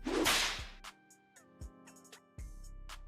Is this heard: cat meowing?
no